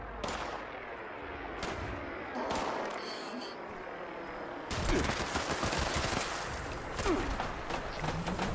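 Repeated gunshots ring out in Fallout 76, starting as sparse single cracks and building into dense rapid bursts of automatic fire, loud and close, with game ambience underneath.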